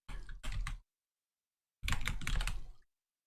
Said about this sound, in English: let's actually type on the keyboard